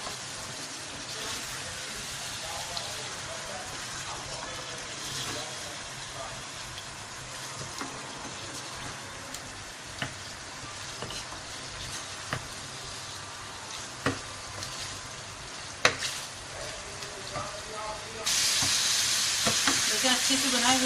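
Beef liver (kaleji) with spices fries in a pan, giving a steady close sizzle with scraping and clinking stirring strokes scattered throughout, growing louder near the end.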